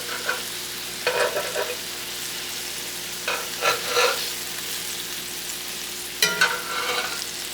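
Meatballs fry in a pan with a constant sizzle, broken by several louder bursts of spatter and scraping as they are turned, heard close without talk.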